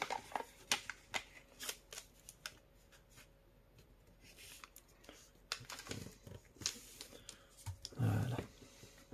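Paper is unfolded, turned over and creased while folding an origami centipede, giving soft scattered crinkles, rustles and taps, mostly faint and close, with a louder rustle near the end.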